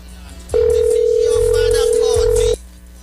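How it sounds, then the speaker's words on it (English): A telephone tone sounds on a call during a live street radio broadcast, one steady two-second electronic tone that starts and stops abruptly, loud and close, with faint voices in the background. "Me in here and the phone ringing"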